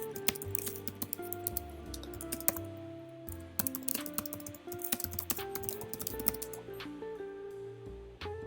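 Rapid typing on a computer keyboard for EDOPro game chat, dense irregular clicks and key taps running steadily throughout with no voices.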